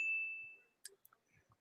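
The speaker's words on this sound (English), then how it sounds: "because I downloaded a bell sound effect" A downloaded bell sound effect gives one bright ding that rings out and slowly fades over most of a second, followed by faint scattered clicks and rustles.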